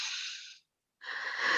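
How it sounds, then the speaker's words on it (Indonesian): A person draws two audible breaths to calm down, a soft airy inhale, a short pause of silence, then a second breath, close and faint. "Ada yang bilang kalau marah tarik napas."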